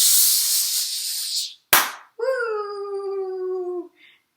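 A voice imitates homemade Fourth of July fireworks: a long rushing hiss, then a sharp close bang, then a wavering whistling wail that holds for a couple of seconds before fading, with a faint final chirp.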